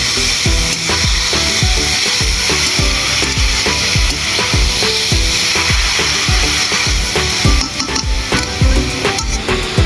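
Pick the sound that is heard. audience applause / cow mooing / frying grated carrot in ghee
frying grated carrot in ghee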